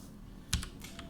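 A few quick keystrokes on a computer keyboard while typing into the Russian Fishing 4 game chat: one sharp clack followed by several lighter taps over steady background hiss.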